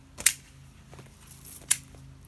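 Hand shears snip a young yew hedge, with two crisp, close cutting strokes spaced apart and faint rustling between them, over a low steady hum.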